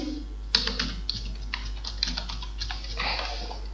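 Typing on a computer keyboard: a quick, uneven run of close, crisp key clicks over a low steady hum, with a denser burst of keystrokes near the end.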